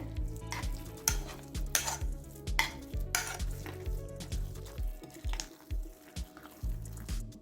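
A spoon scrapes and stirs a thick, sticky poppy seed filling in a bowl, producing repeated wet squishing strokes in an uneven rhythm, close up.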